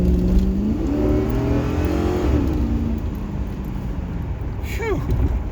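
A car engine in a video game revs up with rising harmonic sweeps over steady road rumble, climbing through gears in the first seconds and holding loud, with a brief high whine near the end.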